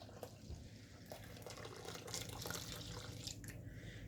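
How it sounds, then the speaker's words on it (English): Hot milk, a full pint, poured slowly into a bowl of eggs and sugar for custard, a steady soft liquid pour trickling and splashing at close range for several seconds with no talk. "So now Anthony is pouring in the hot milk, and do it slowly because it is very warm."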